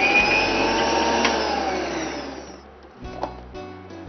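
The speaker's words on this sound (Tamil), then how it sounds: "கொஞ்சோண்டு பச்சை மிளகாவும் சேர்த்து அரைச்சிக்கலாம்." A kitchen mixer grinder whirs loudly while grinding green chillies into a paste, holding a steady run that winds down, then starts again in short pulses.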